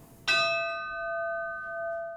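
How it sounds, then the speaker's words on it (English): A single bell strikes once at a remembrance ceremony at City Hall, a clear struck tone ringing on with a long, steady sustain and no voices. "After each name was read, a bell rang"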